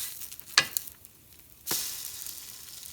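French toast fries in a pan with a steady broadband sizzle, broken by two sharp louder bursts, likely as a slice is lifted or pressed, then a continued hiss; no one speaks.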